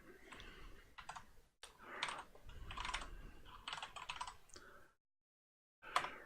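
Fast clicking keystrokes on a small new computer keyboard, in irregular bursts, close and moderately quiet, with one brief pause of silence near the end before a final flurry of taps.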